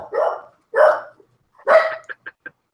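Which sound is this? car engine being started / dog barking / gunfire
dog barking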